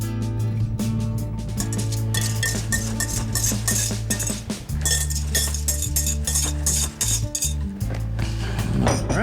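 Parsnip cake batter gets hand-mixed in a bowl, a utensil clinking and scraping rhythmically against the sides over a steady low hum, close and continuous.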